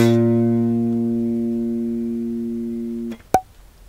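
A single sustained A-sharp bass guitar note plucked on the G string rings clearly and alone, slowly decaying for about three seconds before being muted, followed by a short click and faint string noise.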